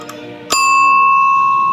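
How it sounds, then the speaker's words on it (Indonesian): A ting-tong bell on a Dunlop onthel bicycle strikes once, loud and close, and its bright metallic tone rings on and decays slowly after a short stretch of quiet handling noise. "untuk bel menggunakan bel ting-tong"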